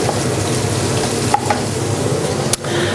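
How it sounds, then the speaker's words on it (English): Onion and chorizo sauté in a pan during a Christmas cooking demonstration, giving a steady close sizzle with a couple of brief utensil clicks and stirring scrapes. "Saute that as well. And just cook the onion until it's sort of clear."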